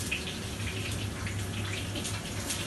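Water pours steadily into a pot of rice for a flaky rice dish, a continuous close splashing stream with no talking.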